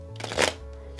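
A thick tarot card deck is riffle shuffled in one quick, close burst of fluttering card clicks lasting under a second.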